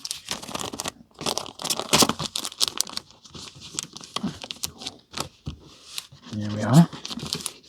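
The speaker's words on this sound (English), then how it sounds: "I am going to fold the flap over because it's quite wide" A wide paper envelope flap is folded over around vintage Penguin catalogues, giving close crinkling, rustling and soft tearing sounds in short bursts while a person talks.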